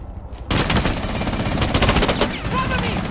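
Rapid automatic gunfire from a first-person shooter esports match, a dense sustained burst of shots starting abruptly and continuing loud and close for several seconds.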